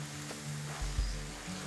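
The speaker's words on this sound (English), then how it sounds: "Back to the skillet, the one we used for the bacon, and cook up a quick scramble." Eggs scrambling in a skillet still greasy from bacon, a steady close sizzle and frying hiss with a couple of soft stirring bumps.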